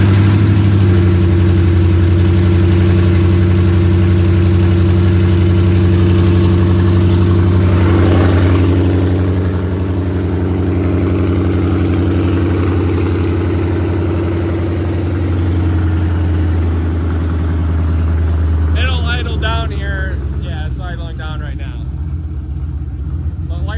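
A Coyote-swapped 1979 Mustang pace car on a base tune settling into a loud, steady low idle with a deep throbbing rumble, with brief revs and a voice talking near the end.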